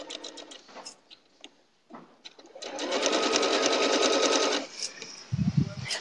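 An Eversewn Sparrow 20, a small lightweight sewing machine, stitches in a steady whirring run of about two seconds, preceded by a few short clicks and bursts and followed by brief handling knocks.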